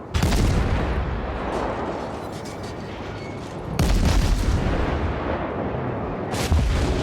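Heavy naval gunfire from an enemy ship in World of Warships, loud booming salvos over a constant rumbling roar, with a big blast surging near the middle and another near the end.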